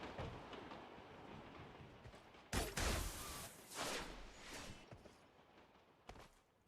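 A train rolls along in the battle royale game PUBG Mobile with a continuous rumbling clatter. The sound swells into loud bursts of rattling and clanks midway, then fades back to a steady roll.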